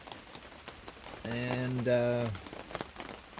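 Steady rain patters on a surface outdoors through a wet spell, a broad hiss behind a brief harmonic voice or whine in the middle and a spoken word.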